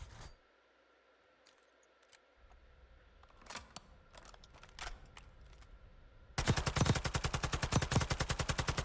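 Rapid burst of machine gun fire in Call of Duty: Warzone, loud and evenly spaced, coming in for the last couple of seconds after quieter game ambience and a few scattered sharp clicks.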